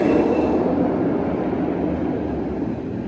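Riddler roller coaster at Six Flags Magic Mountain roaring past as a loud, steady rumble of wheels on track, close by and continuous, with no voices.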